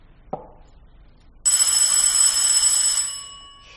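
An old-fashioned telephone bell in a French radio drama rings out loud and bright, a steady continuous ring lasting about two seconds after a small knock and a quiet pause.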